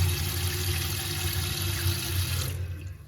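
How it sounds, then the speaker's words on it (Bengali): Water runs steadily from a tap fitted with a new water-saving attachment, a continuous close hiss and splash that stops abruptly near the end. "জল পড়ছে"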